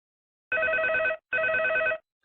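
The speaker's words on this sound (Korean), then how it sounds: "피대에서 요란한 벨소리가 울렸지만" A loud electronic bell rings in two even bursts, each about two-thirds of a second, with a short gap between them, alone and with no talk, in a Korean mobile escape-room game.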